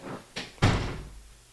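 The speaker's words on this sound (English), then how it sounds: "She shut the door." A door is shut once, with a dull, fairly loud thud after a softer knock and rustle, then a fading tail of room sound.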